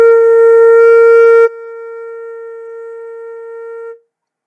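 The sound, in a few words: flute playing the note B flat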